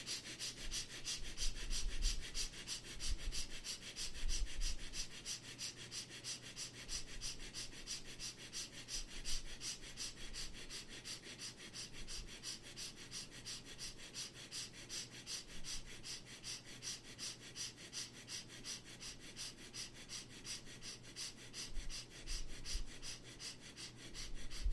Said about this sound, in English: start breathing playful, gentle, short breathing from the rib cage